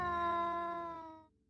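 A single clear cat meow used as a sound effect in a folk tale narration, a drawn-out tonal cry lasting just over a second, close and alone, fading out at the end.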